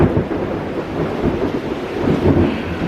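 A thunderstorm with a heavy, continuous low rumble of thunder mixed with rain and wind noise, loud and steady with no break.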